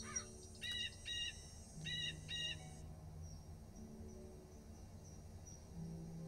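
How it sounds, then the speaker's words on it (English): Synthesized songbirds in the Nancy Drew game Ghost Dogs of Moon Lake give short bright chirps in quick paired bursts over a faint outdoor ambience of insects, moderately near and with no talking. "Aren't these birds beautiful?"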